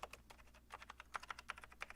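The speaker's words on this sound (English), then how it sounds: "It does feel like a membrane keyboard." Keys clatter on the membrane keyboard of a Mac LC II, a quick uneven run of soft close-up taps heard quietly on their own.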